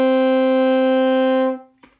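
A single sustained note A on an alto saxophone, played with fingers 1 and 2: loud, steady and reedy, held for about a second and a half before fading out, followed by a faint click.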